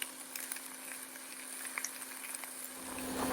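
Eggs frying in a pan, a steady close hiss and crackle with small pops scattered throughout, heard alone and without talk.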